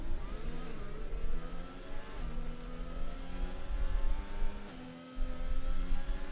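Race cars in the F1 2020 video game pull away at the French Grand Prix formation lap, several engines rising and shifting in pitch together, loud and steady with repeated gear-change dips.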